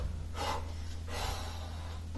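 A person exhales audibly during a Pilates exercise, with two soft breath bursts over a steady low hum, moderately close.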